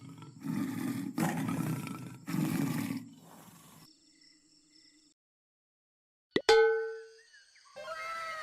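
Three long, heavy roars from a tiger rumble one after another, then quiet falls before a sharp splash-like hit and some rustling.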